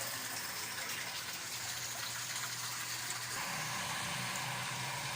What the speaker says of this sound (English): So here's the outlet from the siphons coming into the tank. So we can see that it is draining. And pretty strongly, in fact.